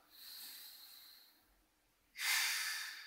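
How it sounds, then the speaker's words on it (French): Active nasal inhalations during a yoga belly-breathing exercise, close and breathy, one gentle draw of air followed by a sharper, louder snorting inhale after a brief pause. "Inspire activement."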